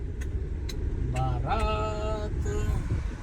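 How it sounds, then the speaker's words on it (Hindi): Road traffic in India with a passing wedding procession nearby, engines rumbling steadily close by, punctuated by several short horn honks and a longer blaring horn, under light street noise. "यहाँ तो ट्रैफिक ही मिल गया है।"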